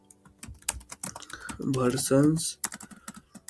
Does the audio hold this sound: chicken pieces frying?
no